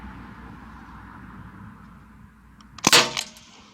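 A single sharp shot from a Crosman 1077 air rifle, a close, snappy crack with a brief rattling echo, breaking a quiet outdoor background.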